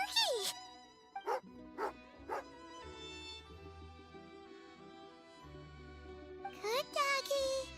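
A game dog in Genshin Impact barks and yips in sharp repeated bursts, close and loud, over a music bed that keeps playing underneath.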